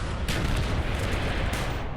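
A gunshot rings out in Call of Duty: Black Ops as Castro is hit with a headshot, a loud booming blast with a dense, noisy tail and a second sharp report shortly after.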